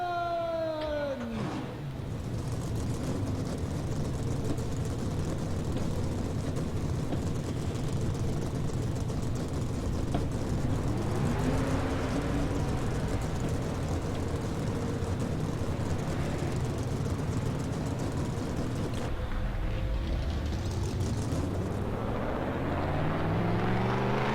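A stock car engine in NASCAR Racing 2003 fires up and settles into a loud, rough idle, the steady rumble holding for over twenty seconds before the revs climb toward the end, with no voices.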